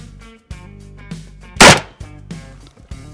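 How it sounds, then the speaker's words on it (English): A shotgun firing Federal slugs at a target booms once, a single loud, close blast in the middle, surrounded by quieter thumps and outdoor background noise and no speech. "shooting some Federal slugs"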